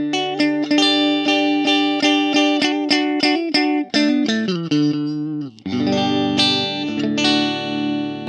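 An Ibanez Gio electric guitar on its middle intermediate pickup setting, played as a clear, bright run of picked notes and chords with effects, sustained ringing and distortion, loud and alone.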